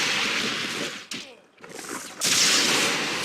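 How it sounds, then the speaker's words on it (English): Gunfire in a competitive naval battle video game match, dense bursts of shots and loud rumbling, with a short lull before the firing swells again. "Some shots going off on LSO's fetch"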